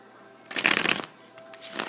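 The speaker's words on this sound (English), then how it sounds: "I'm just going to shuffle your cards" Tarot cards shuffled by hand, one dense riffling burst followed by a softer second pass, close and quiet, with no talking.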